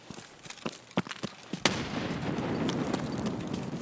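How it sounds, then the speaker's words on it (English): Sharp gunshots crack in a rapid irregular series in Escape from Tarkov on the Woods map, then a loud blast gives way to a long rumbling roar of explosion debris. "There's lots of shooting, there's lots of explosions."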